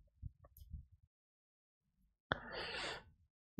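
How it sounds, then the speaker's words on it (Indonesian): A person snoring on an online meeting call: a few faint low murmurs first, then a single loud, harsh, breathy snore lasting about a second, followed by silence. "Siapa lagi yang ngorok ini?"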